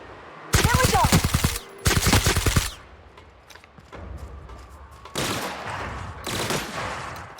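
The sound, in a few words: gunfire from the video game The Outer Worlds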